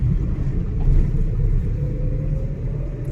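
A car rolls over a heavily potholed road near Mukki gate at Kanha jungle, a steady low rumble of engine and tyres with uneven bumping throughout, no talk.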